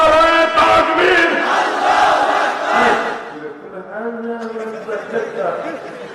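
A huge crowd of over a hundred thousand people at a two-day religious gathering on the Fandauk playing field roars the chant Nara-e-Takbir in loud, sustained collective shouts.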